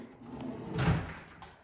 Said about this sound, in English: Now the cupboard doors are soft close